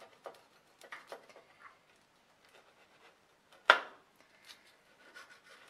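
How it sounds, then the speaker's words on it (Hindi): A knife slices through grilled egg-mayo sandwiches, halving them with soft scattered cuts and one sharp crunchy press against the board, quiet and close. "मैंने दोनों सैंडविचेस को 2 टुकड़ों में काट दिया है"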